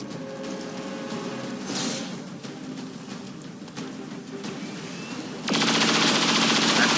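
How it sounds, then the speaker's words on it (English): Rapid automatic gunfire from a chain shot aimed at a sectopod in XCOM 2, a dense rattling burst over game sound that swells louder near the end. "Definitely want to chain shot the sectopod."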